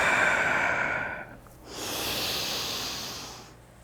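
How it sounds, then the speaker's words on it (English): Slow, audible yoga breaths, a long airy exhale followed after a short pause by a soft inhale, close and breathy with no talking. "Breathing in, just taking several of these"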